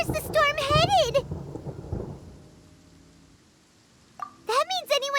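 A thunderstorm in Genshin Impact, with a heavy thunder crash and rumble that rolls and fades into quiet, framed by speaking voices before and after.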